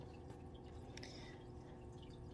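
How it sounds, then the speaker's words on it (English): Water gently trickling and dripping in a fish tank being prepared in a quiet room, soft and faint with a few small drips over a low steady hush. "To provide some white noise in the room, we do have a fish tank"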